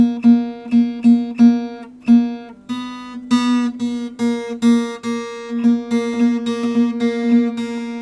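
A single note on the guitar's B string picked repeatedly, bright and steady, plucked in a loose rhythm as it rings at the same pitch throughout.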